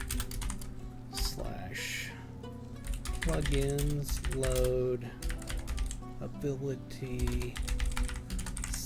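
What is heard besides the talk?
typing on a computer keyboard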